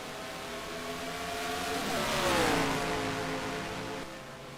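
Race cars in a Watkins Glen racing video game scream past, their engine whine swelling to a peak midway and then falling away as they pass; no talking is heard.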